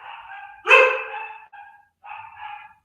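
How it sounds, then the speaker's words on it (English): Dogs bark in a few sharp, close bursts: one loud bark, then shorter yips after a brief pause, with no talking. "the dogs are gonna bark"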